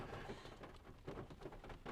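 Steady rain falling outdoors after the heaviest downpour has passed, a soft continuous wash of drops with gentle swells, fairly quiet and without voices.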